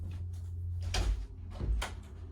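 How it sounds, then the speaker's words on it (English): A door being locked indoors, with two or three close, sharp knocks and clicks of the latch and lock in quick succession. "gotta lock the door"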